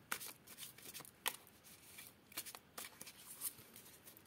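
A deck of tarot cards is shuffled and cut up close, giving quick, crisp riffling bursts and soft slaps at irregular intervals against a quiet background.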